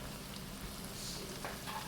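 Ground meat sizzles in a pan for homemade cheeseburger Hamburger Helper, a steady close crackle and hiss with no talk over it.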